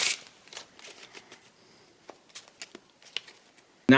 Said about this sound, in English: So now the deck's nice and shuffled